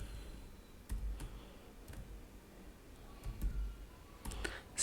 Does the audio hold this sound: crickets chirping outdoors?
no